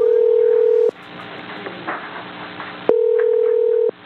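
A telephone line tone on a call placed to request an interview with a Buddhist monk: a steady, loud electronic tone sounds for about a second, goes quiet for two seconds, then returns for another second.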